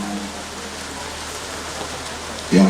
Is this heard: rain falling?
yes